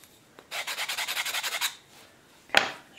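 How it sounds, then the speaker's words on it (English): Quick back-and-forth sanding on the corners of a wooden neck block for an acoustic guitar build, about a dozen rhythmic rasping strokes close by, followed by a pause and one short scrape. "I'm going to sand the corners on this one"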